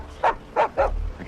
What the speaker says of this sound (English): His dog didn't like me.